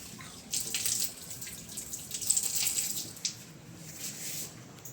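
Squid in coconut milk bubbles in a pot, a soft, uneven run of popping and simmering close by, with slightly stronger bursts in the middle.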